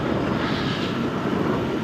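A small camera drone flies over the Mekong River near the Thai border, giving a steady, broadband hum and rush that holds at one level throughout, with no talk.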